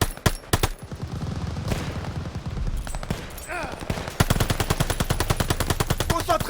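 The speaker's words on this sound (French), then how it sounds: "d'autres mitrailleuses arrivent! Ils ont fait venir des renforts! Continuez à faire feu!" Heavy machine gun fire in a Call of Duty Vanguard battle during Operation Tonga, with loud, rapid bursts, sharp single cracks and sustained rattling fire, mixed with shouting voices.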